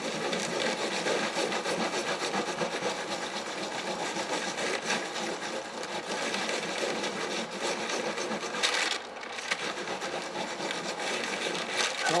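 A Japanese baren rubs over paper on an inked woodblock print, a continuous dense scraping and rustling friction, close and steady, with a short pause near the end.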